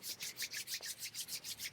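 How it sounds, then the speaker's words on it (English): Palms rub briskly together in a quick, even back-and-forth rhythm, a soft close-up swishing friction repeated about nine times. "let's rub our palms together"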